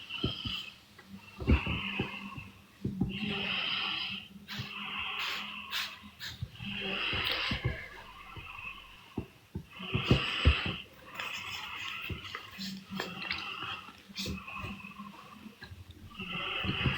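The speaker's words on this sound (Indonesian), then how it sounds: "Yang ngorok itu siapa? Anak aku tuh." A child snores close by in a run of rough, snorting breaths that come at irregular intervals and keep going steadily, with no talk over them.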